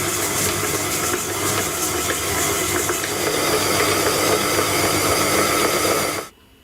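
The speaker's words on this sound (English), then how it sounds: "Now I want to beat this until it's pale." An electric mixer beats unsalted butter and granulated sugar for chocolate shortbread, giving a steady whirring hiss at close range that cuts off abruptly near the end.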